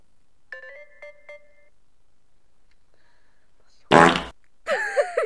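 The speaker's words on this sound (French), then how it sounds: "Il a pété nos deux soupers." A loud, rasping fart bursts out near the end, right after a few soft ringtone-like electronic chimes and some quiet, and a second noisy burst follows it.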